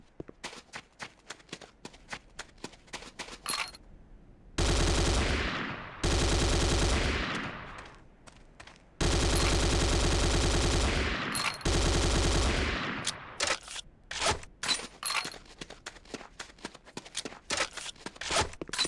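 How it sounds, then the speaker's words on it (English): A Corbretti AR-70 Raptor automatic rifle fires in a video game, with scattered single shots around two long sustained bursts of rapid, loud automatic fire and a brief pause between them. "The next weapon is the Corbretti AR-70 Raptor automatic rifle."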